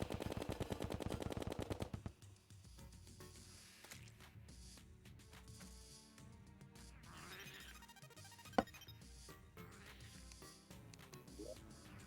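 Rapid automatic gunfire from anchor bullets during a Terraria Golem boss fight, a dense burst of shots for about two seconds, then sparser game effects and one sharp impact near the end.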